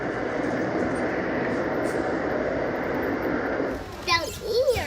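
A model train runs along a track display, giving a steady rolling, rushing rumble. Near the end a voice chatters over it.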